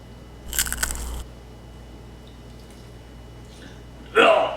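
Crunchy bites into crispy mustard potatoes, one loud crunch near the start and another sharp crunch at the end, close up, with quiet room noise between.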